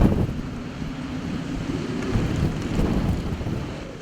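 Strong wind from a big, powerful storm along the eastern seaboard, blowing as a steady low rumbling roar with gusts and buffeting against the microphone, no voices.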